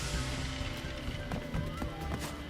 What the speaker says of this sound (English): And even his footsteps are too loud, bruh